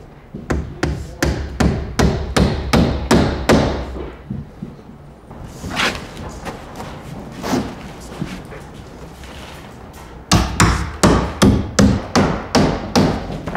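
Drywall panel edges are fastened to a curved wall: fast runs of loud hammer-like blows, about eight in quick succession, then a pause with shuffling, then another rapid burst, close up.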